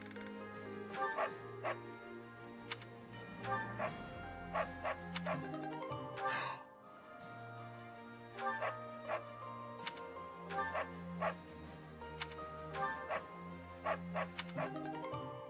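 A dog in Fire Emblem: Three Houses barks and yips in repeated short bursts, with occasional whimpers, over game music, and a voice talks at times.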